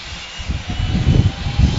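A small skydiving plane's engine drones loud and steady with a rough, throbbing rumble during the climb to 13,500 feet, heard from inside the cabin.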